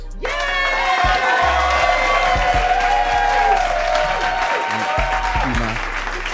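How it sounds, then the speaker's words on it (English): A group claps and cheers enthusiastically, with excited shouts and whoops mixed into the steady applause. "Applause."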